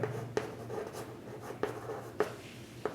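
A pen writing geometry proof notes on paper: steady scratching strokes with sharp taps as the tip lifts and lands about every half second, close and quiet, with a low hum underneath.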